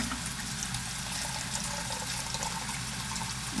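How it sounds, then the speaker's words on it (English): Tap water runs steadily into a sink in a home darkroom workshop, a constant broadband rush with no breaks, close and fairly loud throughout. "I'm gonna turn some water on just to start washing things."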